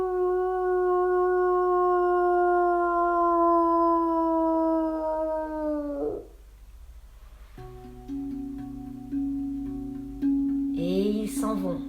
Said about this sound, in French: les loups tendent vers le ciel leurs têtes sombres et ils hurlent chacun à leur tour pour lui dire au revoir